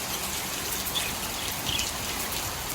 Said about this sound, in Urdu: اب بارش بھی آ رہی ہے